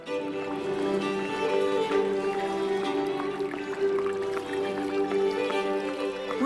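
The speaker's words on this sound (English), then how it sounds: "What a lovely fountain in the middle of the square. The gentle splashing of the water adds life to the scene." A town-square fountain in the fantasy adventure game Legends of the Round Table, its water splashing and trickling steadily, layered under soft game music with no talk.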